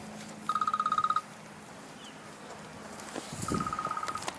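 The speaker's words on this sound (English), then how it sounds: "I had to answer that phone call real quick" A telephone rings in two electronic trilling bursts separated by a pause, mid-distance and fairly quiet, with faint background noise and no talking.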